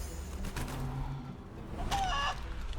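Short burst of fowl-like clucking and squawking from a transformed chicken in Divinity: Original Sin 2, heard once over a low game background.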